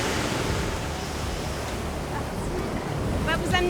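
Steady roar of ocean surf breaking on shore with strong wind buffeting the microphone, a continuous loud wash of noise, with brief voices near the end.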